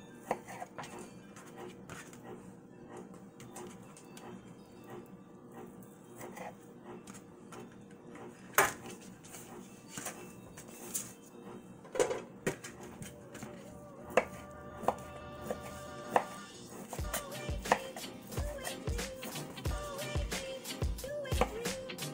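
A knife chops cooked ham into small pieces on a board, giving irregular knocks that grow faster and denser toward the end, with faint kitchen clatter underneath.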